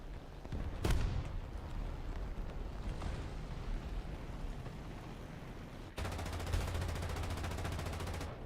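Rapid gunfire and heavy tank cannon shots in a tank combat video game, a sharp blast near the start followed by sustained bursts of shooting, with a dense burst of rattling fire in the last few seconds.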